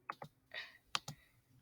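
Several quick keystrokes on a computer keyboard, a short burst of separate clicky taps heard up close with no one talking.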